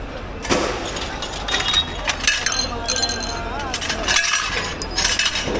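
Glass kitchenware clinks and breaks in scattered sharp bursts while people rummage through a dumpster at midnight, with voices talking throughout.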